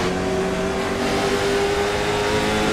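Onboard a late model race car at Stafford, a loud steady engine drone with a sustained tonal whine, close and constant, with no pauses or voices.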